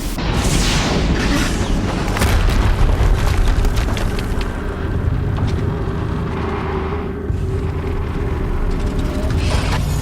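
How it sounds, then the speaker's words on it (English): A deep, booming explosion in the video game Horizon Zero Dawn on PC, followed by a long, dense rumbling roar with mechanical rattles layered over it; no one talks. "Another explosion."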